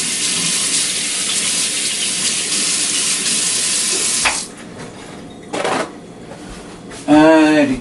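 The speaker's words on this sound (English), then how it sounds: "while I give my hands a quick wash" Hands being washed under a running kitchen tap, with steady splashing water that cuts off partway through, followed by a few brief rustles and a short bit of speech at the end.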